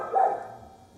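A single dog bark rings out at an animal shelter, a short mid-pitched burst fading into a quieter tail, heard alone with no talking.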